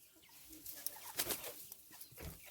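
Chickens inside a henhouse, soft clucking and low cooing murmurs, faint and close, with a few brief sharper calls.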